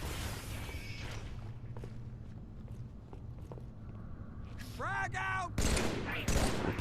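Gunfire crackles in Halo 3 on the Ark mission, scattered distant shots and footsteps giving way to sweeping weapon whines and a closer burst of fire near the end.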